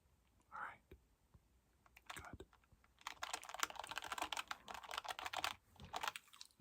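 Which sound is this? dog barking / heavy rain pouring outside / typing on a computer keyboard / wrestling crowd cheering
typing on a computer keyboard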